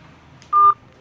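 A single short telephone keypad tone beeps once, clear and close, against a quiet background while a call is placed.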